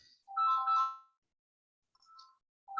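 A phone ringtone for an incoming call, a bright electronic melody that plays one short phrase and pauses, then starts again, clear and moderately close with no talk.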